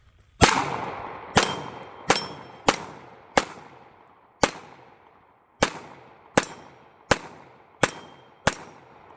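Eleven sharp .380 pistol shots from a Ruger LCP Max ring out at an outdoor range, each followed by a bright metallic ring that decays, as if striking a 16-inch steel gong. The shots come at an uneven pace with a short gap midway, and no one speaks.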